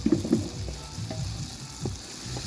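Onions sizzle in a pan with meat curry while being stirred, a steady frying hiss with a few louder scraping clatters near the start and scattered stirring knocks, fairly close and without talk.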